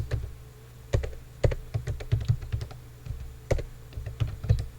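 Close typing on a computer keyboard while writing C code, irregular clusters of crisp key clicks with short pauses and a few heavier strikes, with no voices.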